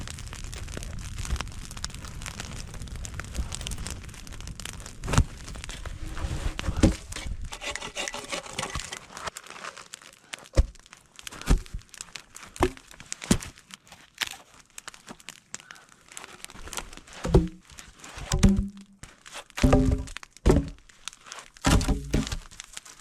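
Firewood is handled and stacked beside a fire in snow, with scattered close wooden knocks and scraping rubs, louder dense rustling at first and then sparse separate clunks, fairly faint overall.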